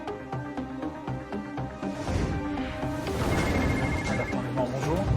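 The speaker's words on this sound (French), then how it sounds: "À la cellule de crise, les téléphones commencent à sonner." Telephones ringing in a busy crisis unit, repeated bell-like tones starting together and building into a loud, continuous clamour over other background noise.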